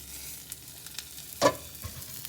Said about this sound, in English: I'm going to flip the omelet.